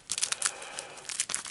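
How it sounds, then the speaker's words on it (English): A deck of Arkham Horror board game cards riffled in a quick shuffle, crisp papery crinkling bursts in two or three short runs, close and fairly quiet. "So we'll give him a quick shuffle"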